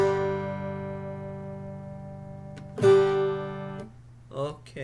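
A guitar chord with the A string muted under a resting finger, strummed and left to sustain, then struck again about halfway through and ringing briefly before a voice cuts in near the end.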